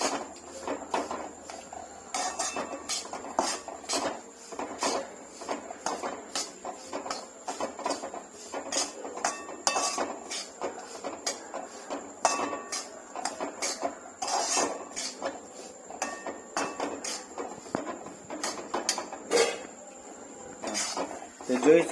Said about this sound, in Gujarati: હવે આને થોડુંક મિક્સ કરી દઈએ એટલે સરસ મજાનું શેકાવા માંડે